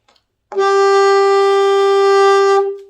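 A single sustained alto saxophone note E, clear and steady, held for about two seconds and then released.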